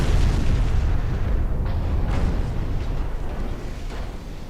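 Fourteen-inch naval guns firing in the naval battle game Ultimate Admiral Dreadnoughts, a heavy booming blast rolling into a long, loud low-end rumble that slowly fades, with no talking.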